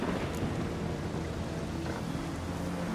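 A thunderstorm in The Witcher 3: Wild Hunt rumbles on as a steady, dense roar of rain and low rolling thunder, loud and continuous with no talk.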